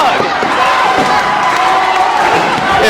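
A wrestling crowd roars steadily at a Midwest indoor event, a dense and loud wash of cheering and shouting voices that holds unbroken throughout.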